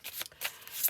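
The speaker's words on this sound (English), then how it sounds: "I'm going to shuffle." A deck of skill cards from a solo board game is shuffled by hand in a few quick, soft riffling bursts, close and fairly quiet, with no talking.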